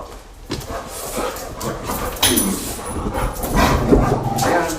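A dog barks in short, scattered bursts over busy, noisy background sound, fairly close and loud.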